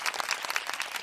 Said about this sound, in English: A big round of applause to everybody.